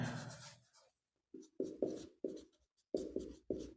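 Chalk or pen writing on a board during a science lesson, a series of short, distinct scratchy strokes in uneven rhythm, close and clear after a brief quiet pause.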